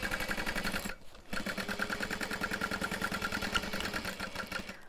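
A sewing machine back stitching on a fabric bag runs in fast rhythmic bursts, stopping briefly before resuming its steady close mechanical chatter.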